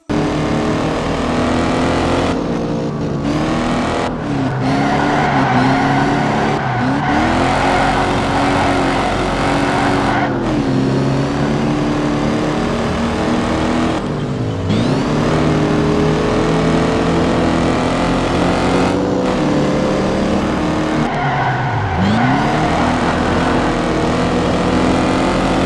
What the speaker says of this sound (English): The Mustang Mach 3 appears in Need for Speed 2.